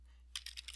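Keys on an Apple II Plus keyboard clacking as commands are typed into the text adventure Zork, a quick run of four or five close, crisp keystrokes following a silent pause, heard alone.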